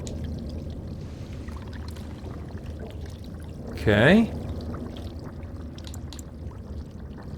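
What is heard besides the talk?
water poured into an earthen jug, from video game Dragon Age: Origins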